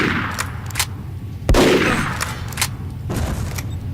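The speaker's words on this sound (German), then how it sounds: "eine Granate war das" A grenade explodes with a loud, sharp boom partway through a burst of gunfire in the video game Übersoldier 2, with sharp shots before and after it.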